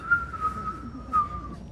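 A voice imitates a mantis's whisper whistle, producing a short, steady, breathy whistle held for over a second with a slight swell near the end, close and fairly soft.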